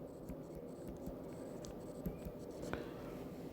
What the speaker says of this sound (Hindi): और यहाँ लिखते हैं वेवलेंथ।